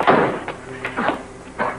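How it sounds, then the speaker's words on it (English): A door closed quickly in a 1946 film serial scene, heard as a few muffled bumps and knocks over roughly two seconds, close and moderate, with no talk. "Quick, close the door."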